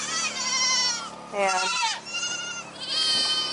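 A goat bleats loudly and repeatedly nearby in long, wavering calls, with a short spoken word between them.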